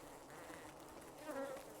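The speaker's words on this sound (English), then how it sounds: "Oh fuck, bees!" Bees buzz steadily in a sandy desert video game, a close continuous insect drone with a slight rise in intensity near the end.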